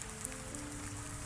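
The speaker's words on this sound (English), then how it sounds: "Outside, the rain continued" Steady rain falling outside, a soft continuous patter of drops on a surface, faint and even with no pauses.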